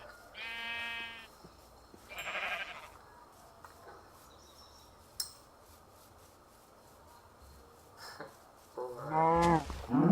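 Minecraft sheep bleating in a few short, separate calls, close and clear over quiet game background, with a louder wavering bleat near the end.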